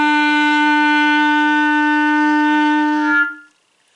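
A beginner clarinet sustains a single held note E, a steady, clear reedy tone lasting about three seconds at even loudness before stopping abruptly, leaving silence.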